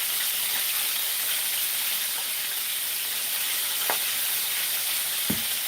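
Cabbage goes into a hot pot of fat and sizzles with a loud, steady hiss. Two brief knocks or taps stand out near the end, and no one speaks.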